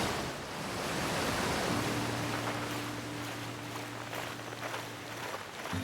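Steady broadband rush of a waterfall in the horror video game Night Grove, loud and continuous, with a low droning hum joining in partway through and no voices.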